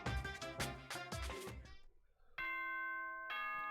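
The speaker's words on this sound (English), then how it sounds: "Ding dong, bing bong." Two-tone doorbell-style chime from the Danganronpa: Trigger Happy Havoc video game, ringing out sustained bell tones after a stretch of busy game music fades, with a second chime strike following about a second later.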